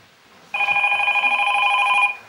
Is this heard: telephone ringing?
yes